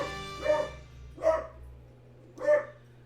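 Three distinct dog barks from Final Fantasy III, evenly spaced and fairly close, over a faint steady background music hum.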